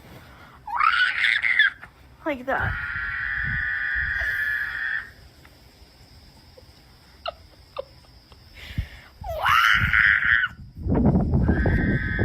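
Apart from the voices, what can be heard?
screaming in a played meme video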